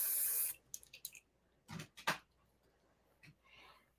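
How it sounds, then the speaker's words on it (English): Short hissing bursts of spray wax misted onto hair, a long spritz followed by several quick separate puffs, near and fairly quiet with no talking. "then I'll hit this with a little spray wax as well for some extra hold"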